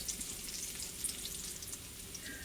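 Biscuit gravy simmers and cooks down in a pan, giving a steady, quiet sizzle with faint crackles and no talking.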